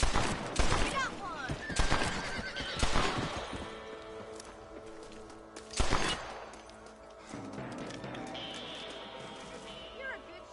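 Gunfire from Red Dead Redemption as rabbits are shot: several sharp, loud shots come in quick bursts early on, then one more crack, over game music and voices.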